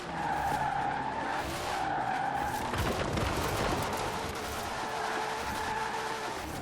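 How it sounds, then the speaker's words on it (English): A car drifting in the racing game Forza Horizon 4: the engine roars loudly and the tires screech and squeal in long slides, with no break in the sound. "Let's drift a little bit"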